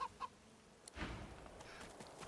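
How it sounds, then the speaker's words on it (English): A chicken in Divinity 2 gives a couple of short, faint clucks, followed by a low rustling and ambient game noise. "What are we gonna do with the chicken, I wonder?"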